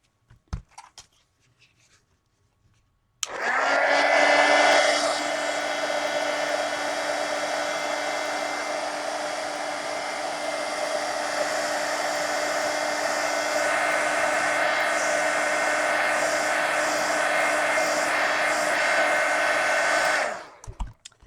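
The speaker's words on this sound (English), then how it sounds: "now let me hit those with the heat gun." A heat gun blowing over freshly painted mixed media collage art cards, a steady loud whooshing drone that starts abruptly after a short quiet pause and runs without a break before cutting off at the end.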